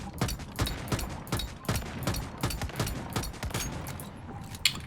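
A gun in the shooter game Once Human fires a rapid, steady string of loud, sharp shots, close and continuous for a few seconds.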